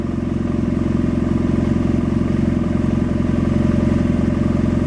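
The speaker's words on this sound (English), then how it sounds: "And listen to the motor." A motorcycle engine idles steadily and close after a Dynojet PC-5 Autotune adjustment, a smooth, even, continuous rumble with no talking.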